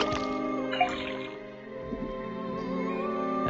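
Faucet water running in the video game Detective Grimoire, a steady close trickle with faint dripping over a soft game music background.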